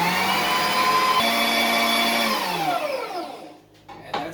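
An electric meat grinder whirs loudly and steadily while grinding chunks of venison cutlets and roast, its motor pitch sagging as the meat feeds through before winding down near the end.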